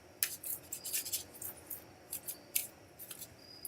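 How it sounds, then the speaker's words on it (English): A deck of playing cards being shuffled, with crisp bursts of riffling and snapping card edges coming in irregular clusters, fairly close and clear with no talk over them. "let me know when to stop shuffling"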